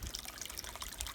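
Steady rushing trickle of stream water pouring from a trailside spring outlet on the Appalachian Trail into a 2-liter bottle, continuous and close with no talk.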